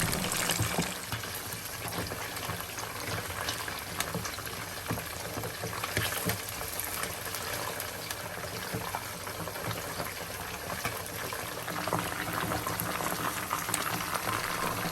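Chicken pieces fry in hot oil, giving a dense, steady sizzle and bubbling that holds evenly at moderate loudness throughout, with no speech.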